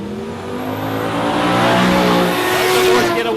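Drag racing cars launching side by side at Warwick Dragway, loud engines roaring and rising in pitch with tire noise, a sustained powerful blast close by.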